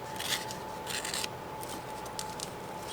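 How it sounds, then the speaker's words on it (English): A dyed book page being torn into two pieces, heard as a few short, close, dry ripping bursts over a quiet background with a faint steady hum. "I treasure these, so I'm going to tear this one"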